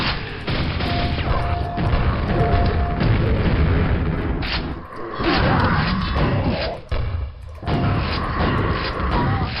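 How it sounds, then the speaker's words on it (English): A deep, booming grenade blast from the video game Quake rumbles loudly, surrounded by steady, dense game noise and several sustained heavy bursts. "I just like how I shoot that grenade over the pillar and I just see like just chunks"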